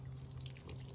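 Water poured onto freshly planted garden soil, making a soft, continuous splashing trickle at close range that lasts about a second.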